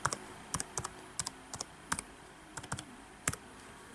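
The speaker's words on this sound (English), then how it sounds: "It's quite hard to type when you've only got one hand." Keys on an early 2006 15-inch MacBook Pro laptop are pressed with one hand in slow, uneven clicks, single and paired taps separated by short pauses, quiet and close in an otherwise still room.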